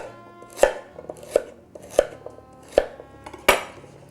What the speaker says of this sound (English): I will just cut them diagonally into about an inch thick slices, just like that